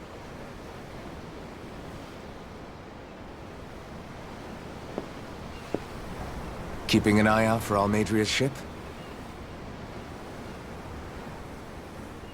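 Ocean waves wash steadily in the Tales of Arise game, a broad, soft surf noise that runs throughout, with a character's voice briefly speaking over it midway.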